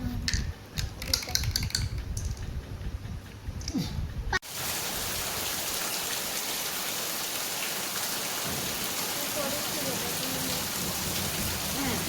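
Heavy rain pouring down steadily during the Raja festival, a dense loud hiss that follows a few seconds of clattering, patter-filled ambience before settling into an even, continuous roar.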